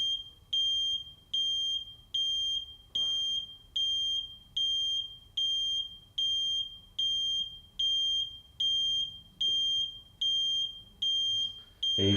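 A flame detection CCTV camera sounds its audible alarm: a loud, high-pitched beep repeating in a steady pulse about once a second, with faint background noise beneath.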